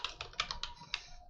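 Rapid clicky keystrokes on a computer keyboard, close and fairly soft, arriving in uneven bursts with short gaps, no voices.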